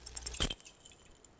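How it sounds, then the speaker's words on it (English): A metal bar rattles in its door brackets in the video game Disco Elysium, a brief close clattering burst that cuts off quickly into quiet. "You hear the bar rattle in the brackets."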